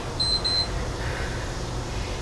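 A workout interval timer gives two short, high electronic beeps in quick succession, faint over a steady low room hum, then goes quiet.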